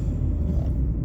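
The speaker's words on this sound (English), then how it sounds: "there's traffic down this way" Steady low rumble of nearby road traffic, a car passing close by as a continuous, even engine and tyre drone with no voices.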